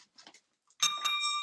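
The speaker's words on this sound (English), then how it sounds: "I got to ring the bell" A shop bell rings once in an antique apothecary and oddities store, its bright metallic tone sustaining and ringing out after a few soft, quiet sounds just before it.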